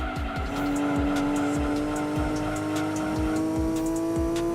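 A race car laps a circuit in Gran Turismo 2, its engine droning steadily loud with rising gear pitch while repeated tire squeals and skids cut through as it corners, continuous with no talk.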